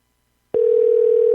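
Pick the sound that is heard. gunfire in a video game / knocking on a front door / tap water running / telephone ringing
telephone ringing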